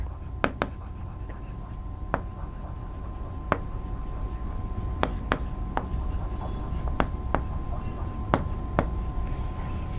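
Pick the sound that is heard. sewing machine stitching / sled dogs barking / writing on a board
writing on a board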